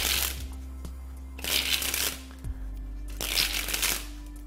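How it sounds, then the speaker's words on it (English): Playing cards spring off the fingers in three quick riffling bursts, each a crisp flurry of close card flicks separated by brief pauses. "that's how to spring the cards off the fingers"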